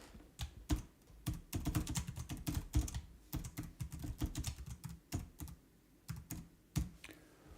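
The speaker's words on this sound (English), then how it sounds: "Could you type the name of the book? Yep, I can." Fingers type a book title on a computer keyboard, a quick uneven run of close key clicks with short pauses between words.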